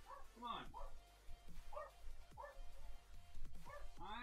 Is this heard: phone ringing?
no